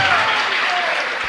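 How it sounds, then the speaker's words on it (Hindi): An audience applauds loudly in a hall at a religious discourse in Tejgarh, a dense, steady burst of clapping up close with a faint tonal whine sliding underneath. "बस तेजगढ़ नाम आ गया तो ताली बज जाती है"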